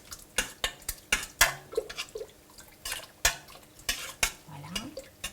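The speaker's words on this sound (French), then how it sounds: "Continue de remuer." A spoon stirs Moroccan harira soup in a pot, sharp irregular scraping clicks against the pot over a faint simmer, fairly quiet and close, with no talking.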